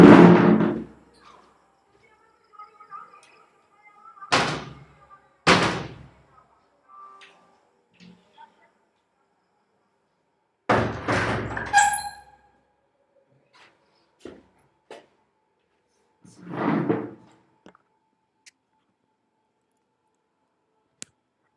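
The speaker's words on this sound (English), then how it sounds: "I'm going to shut my door and window because I think the background noise is probably too noisy." A room door and a window are shut indoors, giving several separate thumps and knocks with rattling clicks in between. Quiet gaps fall between the bursts, and no one speaks.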